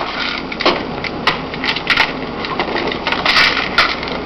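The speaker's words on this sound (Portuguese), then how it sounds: "E agora nós vamos colocar os parafusos que vão fixar a placa no gabinete." Screws being fitted to fix a motherboard into a computer case give a busy run of metallic scraping, clicking and small taps, close and fairly loud, with no talk.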